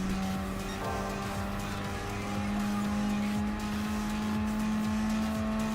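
In Gran Turismo Sport, a race car drives flat out down a straight. Its loud, sustained engine drone climbs steadily in pitch as it accelerates, with no talk.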